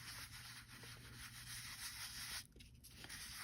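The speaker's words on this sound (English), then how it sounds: "I'm going to dab it on and I'm going to rub it." An ink sponge is rubbed and dabbed across a vintage paper envelope, giving a soft, steady papery scrubbing that runs continuously, with a short pause near the end before the rubbing resumes, quiet and close.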